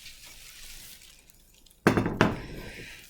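Two sharp clinks ring out close by as a glass Pyrex container is set down and handled, each a bright knock with a short ringing tail, following quiet handling noise.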